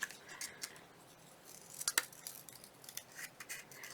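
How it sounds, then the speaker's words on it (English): Scissors snipping around a printed Merry Christmas greeting on cardstock, a close, quiet series of short crisp cuts at an uneven pace, a little louder in the middle. "I think I'm going to cut around that a little bit more."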